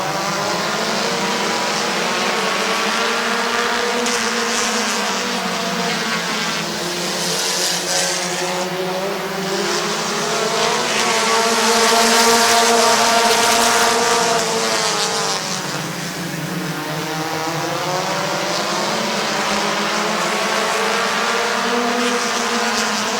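Race cars roar around the Midvale Speedway oval on the front straightaway in a continuous, loud engine drone, with the pitch rising and falling as cars pass close by.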